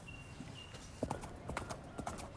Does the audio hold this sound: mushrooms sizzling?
no